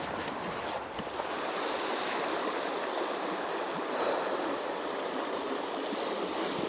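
The River Doon flowing steadily on a June morning, a continuous broadband rush of moving water close by, unbroken and alone for the whole stretch with no voices.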